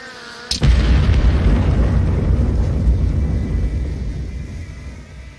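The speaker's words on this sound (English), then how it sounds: "The first wave of missiles are about to be fired." A missile strike in CS:GO Danger Zone on the Blacksite map: a sharp blast followed by a heavy, rolling low boom that slowly fades over several seconds, loud and close, with no speech.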